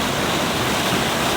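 A shallow California river flows over massive boulders in a loud, constant roar of churning water heard up close, with no voices.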